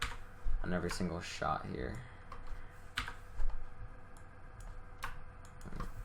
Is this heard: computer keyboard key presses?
yes